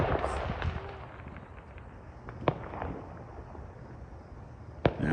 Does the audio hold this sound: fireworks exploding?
yes